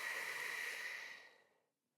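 A long, steady exhale of breath during a Pilates exercise, airy and breathy, close and soft, tapering off into silence after about a second and a half.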